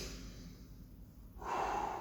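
A single audible breath during a guided home exercise class, a soft airy inhale followed by a stronger, louder exhale near the microphone, with no talking.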